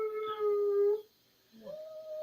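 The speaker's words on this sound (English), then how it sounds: "That's Biscuit, our dog." Biscuit, a pet dog, lets out a sustained tonal howl that cuts off after about a second, a brief pause, then a second rising howl, close and fairly loud with no talking.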